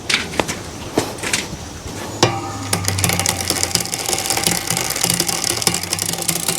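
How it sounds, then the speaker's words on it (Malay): Shimano 105 rear derailleur on a bicycle with a misaligned guide pulley, giving a close, continuous ratcheting clatter of gears and chain with sharp clicks throughout. "Dan dia akan menghasilkan bunyi lah, sebab kedudukan puli tu tak sama dengan yang sepatutnya."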